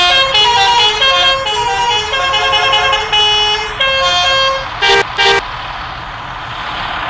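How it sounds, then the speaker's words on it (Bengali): A bus horn in the video game Bus Simulator Indonesia honks loudly in a long sequence of tuneful blasts, ending with two short toots before fading into a quieter engine background, with no speech. "এটা হলো নর্মাল হর্ন যেটা আমি বাজালাম"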